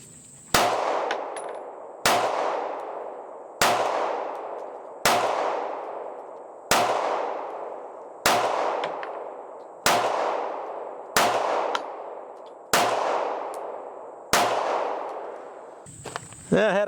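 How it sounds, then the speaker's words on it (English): Eleven single pistol shots from a Sig P365XL fitted with a Romeo Zero Elite red dot, loud sharp cracks spaced about one and a half seconds apart, each ringing out briefly at close range. "Let's just shoot a little bit more just to verify that."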